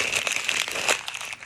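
Paper crumpled and stomped by hand in a classroom activity, a steady close crinkling rustle running throughout with brief louder crunches, no talking.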